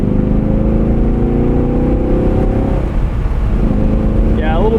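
A 2017 Chevrolet Camaro 2SS manual convertible cruising in Tour mode, a steady loud engine drone with road and wind noise, pitch dipping and then climbing again near the end as it changes speed.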